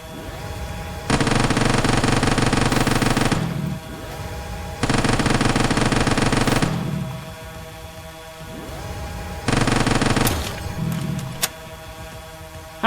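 Three long bursts of automatic weapon fire in the video game Quarantine Zone: The Last Check, each loud and sustained for about two to three seconds, separated by quieter pauses with a steady background hum.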